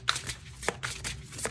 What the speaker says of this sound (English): Official shuffle for anybody that be having something to say about my shuffling.